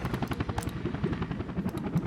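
A helicopter flies in the city-building game Workers & Resources, ferrying construction materials: a steady, fairly loud rotor chop with rapid rhythmic thumping throughout and no talk over it.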